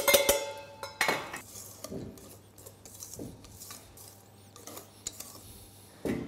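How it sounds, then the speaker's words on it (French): Cocoa, cornflour, baking powder and salt are folded into chocolate cake batter, producing sparse clinks and scrapes of a utensil against the bowl, with quiet gaps between the louder knocks. "maintenant on va incorporer le mélange sec, donc le cacao, la maïzena, la levure chimique et la pincée de sel"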